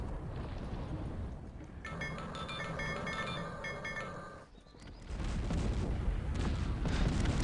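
Musket and cannon fire pounding artillery in a Cossacks 3 battle, a dense, rumbling wall of overlapping shots and booms that eases briefly around the middle before surging back louder.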